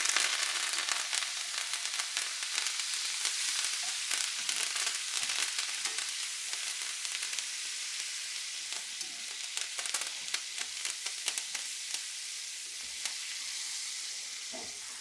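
Steak sizzles loudly and steadily in a hot pan with fresh thyme, a dense continuous crackle broken by frequent sharp pops and spatters throughout, close and without talk.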